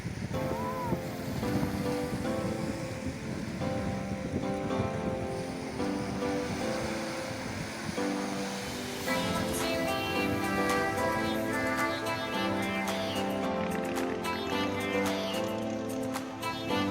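Ocean surf rolls steadily on a Saint Martin island beach at dawn, a continuous broad wash of waves with wind noise, while tonal music-like layers run over it in the second half.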